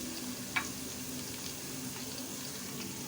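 Chopped onion fries in hot oil in a pan, giving a steady, close hiss and crackle with a small clink near the start and no talking.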